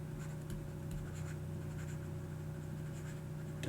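Pen scratching out notes by hand, a steady faint scribble over a low room hum with a few soft taps, no talking.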